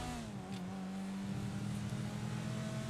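A car in GTA 5 drives with a steady engine drone that rises slightly in pitch as it accelerates, continuous and moderately loud with no voices.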